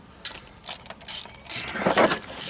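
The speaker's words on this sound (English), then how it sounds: "10mm socket and we will remove the fastening bolts" Ratchet wrench with a 10mm socket working fastening bolts loose on a manual locking hub, several short sharp clicking bursts close up, one after another.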